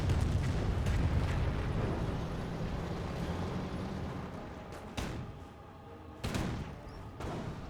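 Calliope rocket barrages in Company of Heroes rumble as a dense, continuous roar of blasts, then thin out into a few sharper, separate booms near the end, loud and without talk.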